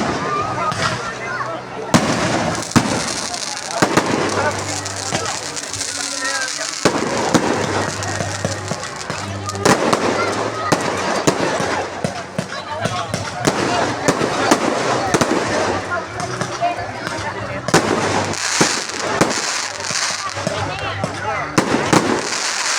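Fireworks burst continuously at a Hari Raya Aidilfitri open house, a dense loud stream of crackles, pops and bangs over crowd noise and voices.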